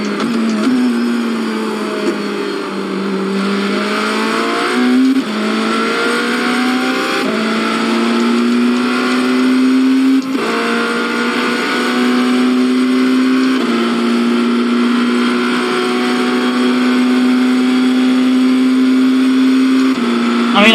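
BMW LMDh prototype race car engine in a racing video game, a loud steady drone throughout with pitch rising through the gears and brief dips at shifts, continuous and close with no pauses.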